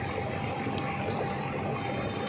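Water pouring continuously from the top distribution system of an air cooler onto its khas grass pads, a steady close trickling rush with faint pump hum and no talking.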